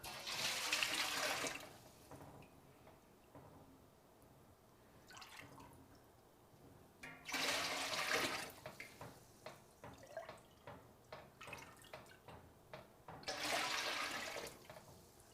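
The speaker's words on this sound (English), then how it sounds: "I'm just gonna ladle off as much whey as I can until I start seeing curds in it into another pot" Whey is ladled from a cheese vat into another pot. Three loud splashing pours are separated by quieter stretches of scattered drips and trickles, all close by.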